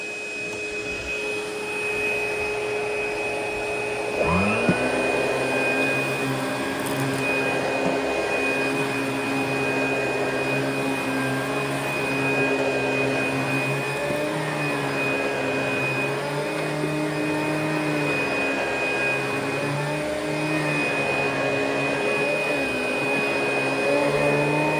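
ProTeam and Hoover vacuum cleaners run steadily and loudly throughout, a constant motor whine with a sharp tonal pitch, one machine rising in pitch as it starts up partway through.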